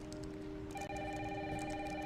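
A telephone rings in a video game, a steady electronic ringing tone that holds through the whole stretch at moderate level, with no talking over it.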